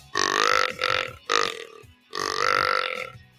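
A voice imitates a mature buck deer's grunt call with a series of deep, guttural belch-like grunts in four bursts, close and fairly loud, separated by short pauses.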